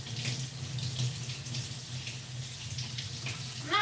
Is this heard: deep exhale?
no